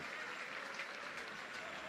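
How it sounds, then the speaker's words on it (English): A crowd at Donnybrook gives a standing ovation after the British and Irish Cup rugby final, with dense, steady applause sustained throughout and no pauses. "The lead side get a standing ovation from the crowd here at Donnybrook, and rightly so"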